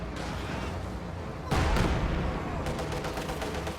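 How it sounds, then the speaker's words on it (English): Heavy mortar and a T-34 tank firing in a WWII strategy video game: a loud boom lands mid-clip over constant battle din, followed by a series of sharper, rapid cracks of gunfire. "Heavy mortar plus T-34 working on the north."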